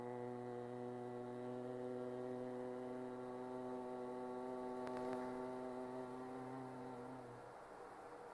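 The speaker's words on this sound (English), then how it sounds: "during the exhalation, slowly make a deep humming sound" A deep, steady humming exhalation during Bhramari pranayama yoga breathing, a sustained low drone held for several seconds before fading out.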